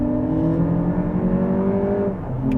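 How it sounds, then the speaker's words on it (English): A 2024 Lexus RX 500h F-Sport accelerates in sport mode with a synthetic induction sound piped into the cabin, a loud, steady droning engine tone that climbs in pitch, then dips and resets near the end. "It's a fake induction noise in sport, but it does sound pretty good"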